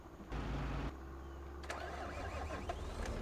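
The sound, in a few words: tractor engine starting in Farming Simulator 25 video game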